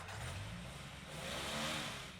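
A car engine revs in an anime episode, a continuous mid-pitched motor roar that swells and climbs briefly, heard alone.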